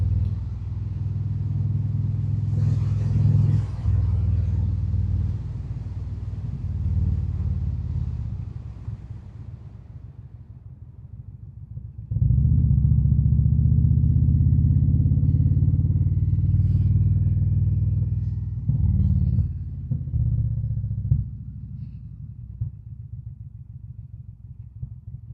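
An Indian Springfield motorcycle rumbles along the road in a low, heavy engine drone heard from the rider's position, easing off mid-ride and then surging loudly again before settling into uneven, quieter running.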